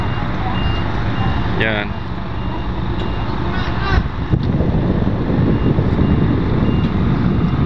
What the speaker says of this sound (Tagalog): Atras na yung sasakyan para medyo luwag na.